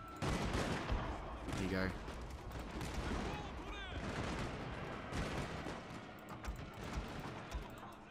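Troops firing guns in the feudal Japanese strategy game Shogun 2 Total War, with dense, continuous volleys of crackling musketry and battle noise throughout, while someone talks briefly over the din.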